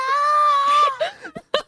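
A voice imitates a full-on soprano scream, a loud sustained high-pitched shriek that breaks off into short gasping, laughing bursts.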